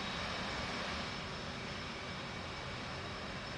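A steady, broadband roar of an aircraft engine in the DCS flight simulator game, a constant even rush with no change in loudness across the whole stretch and no voices.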